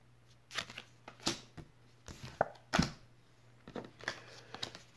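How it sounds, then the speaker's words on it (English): A single playing card drawn from a deck, with soft scattered rustles and light slaps of card stock at close range, quiet and alone with no talking. "First card I drew."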